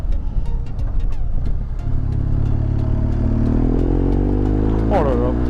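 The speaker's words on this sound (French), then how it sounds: "rouler sans chicane, c'est fait" A motorcycle ridden with its exhaust baffle removed gives a loud, raw, throaty roar, revving up through rising pitch with wind buffeting the microphone.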